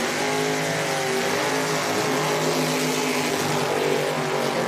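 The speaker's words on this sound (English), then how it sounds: "55 Chevrolet screw-blown big tire car. I love that thing." A 1955 Chevrolet screw-blown big-tire drag car at a Pro Mod drag racing event, its supercharged engine roaring loud and continuous throughout, a dense wall of engine noise without pauses.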